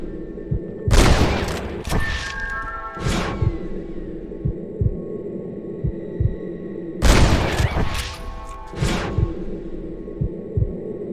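Gunfire rings out during a shooting contest in Red Dead Redemption, with two loud clusters of shots several seconds apart and scattered single thumps between them over a steady hum.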